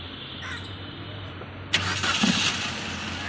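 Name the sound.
Maruti Suzuki Ertiga petrol car engine starting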